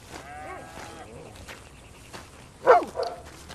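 A dog in the video game Red Dead Redemption 2 gives one short, fairly close bark near the end, following faint ambient sound.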